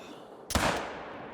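A single rifle shot rings out in the hunting video game theHunter: Call of the Wild, a sharp loud crack followed by a rolling echo that fades out.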